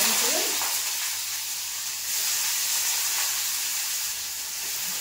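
A fish head and bay leaf fry in a pan, giving a steady loud sizzle and hiss of hot oil that runs without a break.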